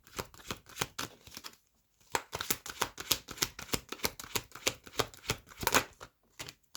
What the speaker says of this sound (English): I'm going to pull one more card to close out this reading.